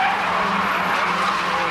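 A Datsun showroom-stock race car passes on a track at a 1980 national championship. Its loud, close engine note holds steady, mixed with tire scrub and squeal.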